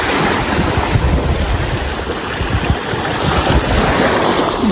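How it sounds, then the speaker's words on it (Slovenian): Sea waves washing along a shore, a steady broadband roar with gusty wind noise across the microphone, continuous and fairly loud with no voices. "Naj te glas morja"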